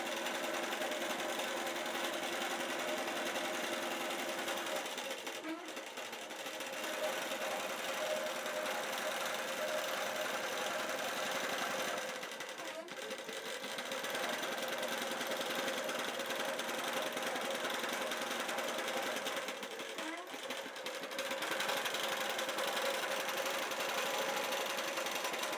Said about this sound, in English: So now this is going to stitch out according to those 4 points that I set originally, and it's going to give me nice stitching exactly in the ditch.